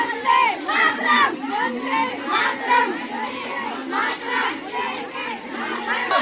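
Schoolgirls in a morning procession for the Chauri Chaura centenary in Azamgarh chant slogans such as Vande Mataram, a dense crowd of young voices shouting in rhythmic, overlapping bursts that stay loud and continuous throughout.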